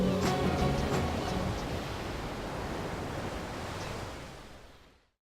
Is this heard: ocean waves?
yes